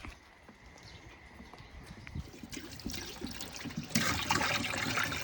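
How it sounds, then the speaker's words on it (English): Water drains and trickles out of a newly unclogged sink aboard a sailboat, gurgling and splashing up close and growing louder and fuller toward the end. "I just got the sink finally unclogged, I think. Yep, it all drains out finally."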